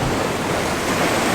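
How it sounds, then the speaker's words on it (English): Surf rolls in and breaks against rocks along a shoreline with a wall running out into the water, a steady close wash of waves with some wind noise, no talking. "area down here with waves breaking in the rocks and a wall going out"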